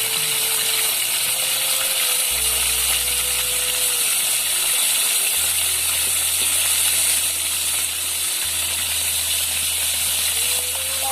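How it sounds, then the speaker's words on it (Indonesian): Wader fish frying in hot oil, a steady loud sizzle and hiss running throughout with a low rumble underneath, no talking. "Yang terakhir wadernya digoreng"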